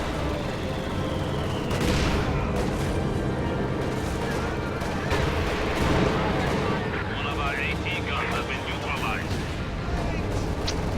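Anti-tank guns boom in a dense video game battle, heavy artillery-like blasts and gunfire layered over a constant roar of combat noise, loud and continuous throughout.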